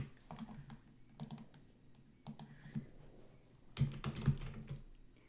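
Fingers typing on a computer keyboard, a quiet, irregular patter of key clicks with brief pauses and a denser burst near the end.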